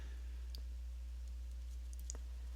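Computer mouse clicks on software buttons, a few faint, sparse, sharp ticks over a low steady hum, with no talking.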